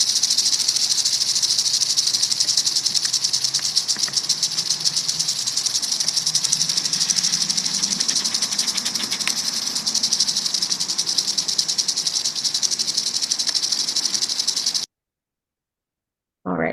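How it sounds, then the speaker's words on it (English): A rattlesnake's rattle, likely a Florida species, buzzes as a loud, steady, continuous dry hiss for about fifteen seconds before cutting off abruptly into silence. "And then we can listen to what its rattle sounds like too."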